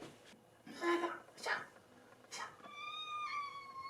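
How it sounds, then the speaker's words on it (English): A pet cat meows several times indoors, short rising cries spaced about a second apart, loud and close, followed by a softer drawn-out whine. "My cat is right now going at its stretching butt."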